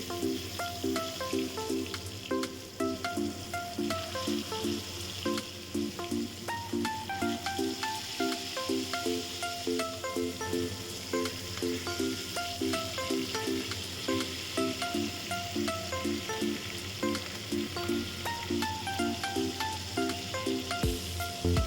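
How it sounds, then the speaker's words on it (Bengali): Fish rubbed with salt and turmeric fries in hot oil, giving a steady crackling sizzle and hiss throughout, with a repeating melodic tune playing alongside. "তো চলুন এবার মাছগুলো এক এক করে ভেজে"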